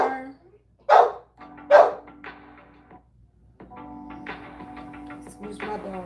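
A pet dog barks twice, sharp and close, in a quiet room, followed by indistinct talk and a murmur of background voices or television.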